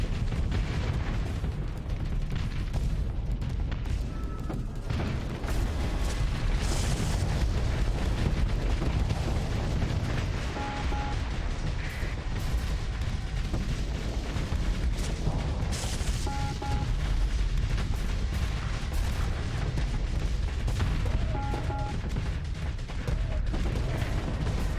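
Starship weapons fire and strike hulls in a Starsector space battle, a dense, continuous barrage of booming impacts, pops and explosions rumbling loudly throughout.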